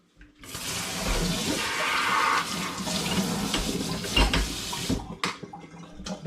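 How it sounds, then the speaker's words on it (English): Tap water runs steadily into and over a bottle as mould is rinsed out of it, a continuous splashing gush that cuts off abruptly near the end, followed by a few small knocks. "I'm just going to literally rinse it out with the tap"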